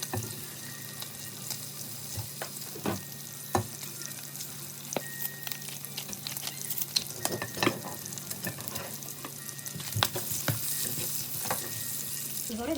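Olive oil frying in a pan with basil-pesto shrimp gives a steady sizzle, broken by scattered crackles and a few clinks from stirring.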